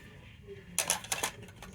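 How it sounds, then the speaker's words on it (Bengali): Half a bowl of dry semolina poured into a mixing bowl for a basbousa dessert: a short burst of grainy rattling and clinks as it lands, close and fairly quiet, then settling. "আর এর মধ্যে দিয়ে দেব হাফ বাটি সুজি"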